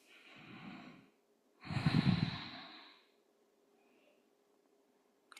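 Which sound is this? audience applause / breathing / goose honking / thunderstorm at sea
breathing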